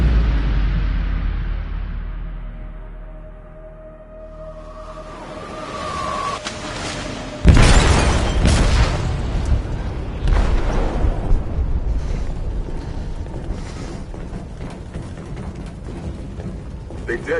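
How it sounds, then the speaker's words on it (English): A video game explosive goes off in a ship's hold: a deep rumbling boom rises and breaks into a loud blast partway through, followed by sustained roaring, creaking debris and turbulent noise as the vessel starts to sink. "They detonated an explosive in the hold. The ship is sinking, sir."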